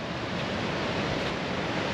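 Storm-churned ocean waves break on Panama City Beach, Florida, a continuous loud wash of surf with wind noise and no talk.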